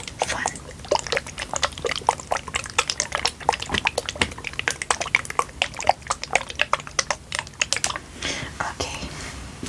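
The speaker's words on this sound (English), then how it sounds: "Like, it sounds like water. It's really liquidy, but it's written as gel" Alcohol gel in a pouch from a Japanese emergency backpack kit, runny like water, gets shaken and squeezed close up, giving rapid irregular wet sloshes and clicks in quick bursts that thin toward the end.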